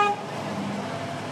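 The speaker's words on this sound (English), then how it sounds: "people are honking their horns and showing their support for some of the local candidates" Car horns honking on a busy road on election day in Sebastopol, one clear tonal toot at the start followed by steady traffic rumble and street noise.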